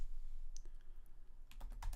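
Keystrokes typing question text on a computer keyboard, a few scattered taps early then a quicker cluster of close clicks near the end, with a steady low hum underneath.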